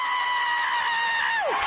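A woman lets out a long, loud, high-pitched scream over the radio, holding one shrill sustained note before it breaks and drops off sharply at the end.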